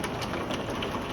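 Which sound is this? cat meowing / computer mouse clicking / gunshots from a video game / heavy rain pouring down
heavy rain pouring down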